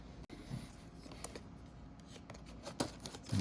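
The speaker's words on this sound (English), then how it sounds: "Let me cut this right here." Scissors snip through the plastic packaging of a Daron MTA 11-inch single bus toy in new blue livery, a few faint, close cuts and rustles over a quiet indoor background.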